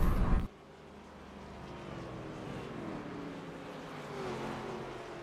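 Race cars in a video game weave in a pack on the grid at Talladega, a steady droning engine roar holding throughout after a brief louder burst at the start.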